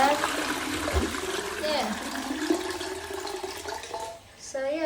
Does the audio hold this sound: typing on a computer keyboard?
no